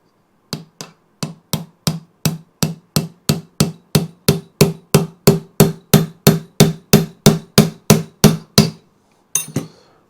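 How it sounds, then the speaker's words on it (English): A screwdriver hammered during an oil pump strip-down, struck in a fast, steady run of about twenty loud metallic blows, then a short pause and two more hits. "Don't hammer your screwdrivers."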